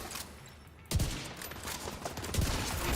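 A video game gunshot bursts in abruptly about a second in, sharp and loud, followed by a sustained rattling wash of fire and echo that stays busy to the end.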